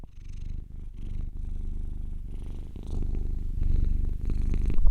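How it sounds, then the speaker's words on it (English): A pet cat purrs steadily and close up, a continuous low rumbling drone that keeps going for about five seconds with a slight rhythmic pulse from each breath and no talking. "Genuine purrs."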